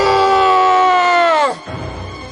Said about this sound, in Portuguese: Eles começaram a gritar